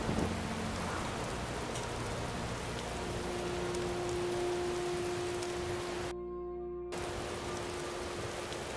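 Steady rain storm in the game Morrowind, a constant soft hiss of rainfall with faint low tones underneath and a brief dropout near the end, no voices.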